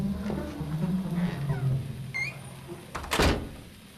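Locked doors tried and rattled: a low wooden creak and squeak under faint background tones, then a single loud, sharp thunk-rattle near the end, close by.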